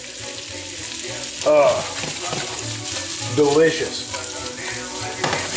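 Food sizzles and fries in a hot pan as it is tossed, with a steady crackling hiss and a couple of louder bursts, while someone talks over it.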